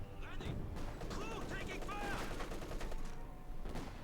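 Rattling machine gun bursts from a Company of Heroes 2 battle, with a British machine gun firing among other gunfire and explosions, dense and continuous throughout.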